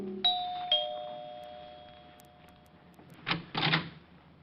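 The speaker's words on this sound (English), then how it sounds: "made it with no trouble, and rang the bell to Helen's apartment" Apartment doorbell at 975 Park Avenue in an old radio detective drama, two bright chime tones ringing out and decaying, followed by a couple of short clunks like a door opening, with no voices.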